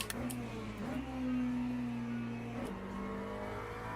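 In Le Mans Ultimate, a race car's engine drones steadily in high gearing, its pitch climbing and holding before a shift drops it, all heard close from inside the car with no talk over it.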